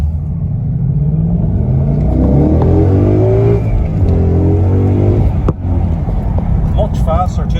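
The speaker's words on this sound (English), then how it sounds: "That growl of the induction is just exactly what I was after." Ford Mustang GT fitted with a custom cold air filter, engine revving with a deep induction growl that rises and falls, loud and steady with some rumble and wind noise.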